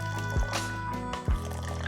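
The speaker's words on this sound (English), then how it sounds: "we're gonna pour a little bit of water in" Hot water is poured into a teapot over Dragon Well green tea leaves, a steady close trickle and splash in two short bursts over a faint tonal hum.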